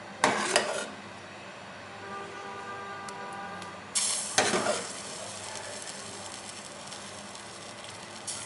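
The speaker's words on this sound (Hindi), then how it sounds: "अब हम इसको डिश आउट करेंगे।" Saffron firni is spooned from a pot into a serving dish, producing soft scraping and clinking of utensil against cookware in two brief bursts over a quiet background.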